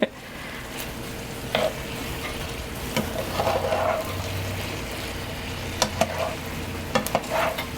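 Fajita filling sizzles steadily in a hot pan while being stirred, a continuous frying hiss broken by a few scraping, clattering strokes of the utensil, close up with no talking.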